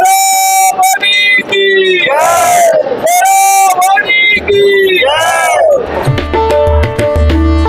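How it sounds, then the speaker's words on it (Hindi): Large crowd of Maa Sharda devotees climbing the steps to Maihar temple, many voices loudly chanting and shouting together in rising and falling cries, close and continuous. "हमारे आगे हो व पीछे माँ शारदे के भक्तों की इतनी सारी भीड़ हमने इसके पहले कभी नहीं देखी भाई"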